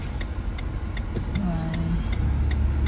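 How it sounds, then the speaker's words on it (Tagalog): Road traffic with a car engine humming and passing under steady regular ticking, moderately loud and continuous, with a brief tonal whine in the middle. "Traffic."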